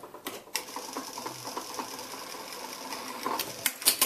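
A sewing machine runs in short quick bursts with a fine rhythmic mechanical clatter while stitching a button placket with small stitches, broken by clicks and brief pauses.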